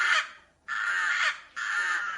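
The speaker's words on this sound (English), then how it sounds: "Rooks are a member of the corvid family, the crow family" Rooks calling in an aviary, three harsh raspy caws in quick succession, fairly close and clear against a quiet background.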